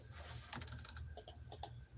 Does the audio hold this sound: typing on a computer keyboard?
yes